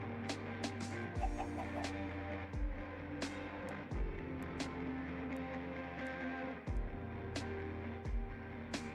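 Clucking from a chicken in a modded Minecraft world, scattered short clucks over dense, busy game sounds with low machine hum and repeated thumps, moderately loud and without speech.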